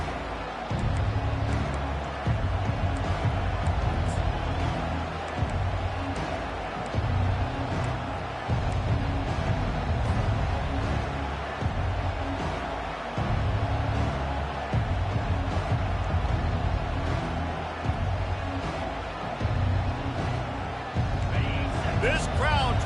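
A packed college football stadium crowd at the Georgia versus Alabama game roars steadily through the opening kickoff, a dense, unbroken wall of noise with voices blending into it.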